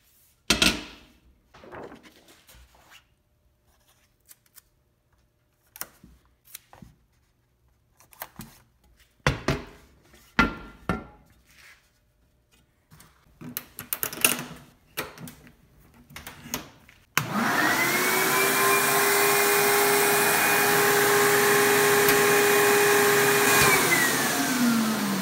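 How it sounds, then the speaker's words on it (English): A screen printing exposure unit switches on after a stretch of sparse clicks and handling knocks, then a loud, steady fan-like hum with a tonal whine runs continuously for several seconds until near the end. "We got the exposure unit all nice and cleaned up. Let's expose some screens."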